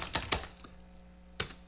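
A few quick computer keyboard keystrokes, close and crisp, come in a cluster of three early on and then a single key after a pause, over a quiet steady hum.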